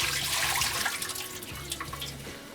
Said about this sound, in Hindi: ये प्रॉन्स का पानी फेंक देते हैं